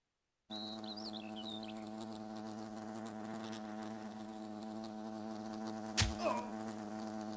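Wasps in the video game Fable make a steady, droning insect buzz that runs evenly from start to finish, with a brief sharp knock near the end and no talking.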